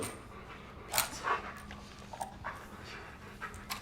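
A police dog pants steadily and close by, quick rhythmic breaths with a couple of sharper whimpering yips and small bursts of movement, all fairly quiet with no talking.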